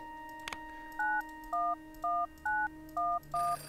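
Six clear touch-tone beeps of a phone number being dialed in the video game Bad Dream: Coma, evenly spaced and moderately loud over a quiet hum, preceded by a short click.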